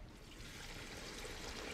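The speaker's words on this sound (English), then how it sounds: "and then I'm going to add the chicken stock" Chicken stock pours into a pot of gumbo with a soft, continuous splashing trickle, faint and steady for under two seconds with no voices.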